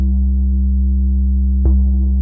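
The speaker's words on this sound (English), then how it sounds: "we can hear those two sine waves being combined" A steady synthesized tone of two combined sine waves holds a low C note, with a brief click-like transient near the end and no voices.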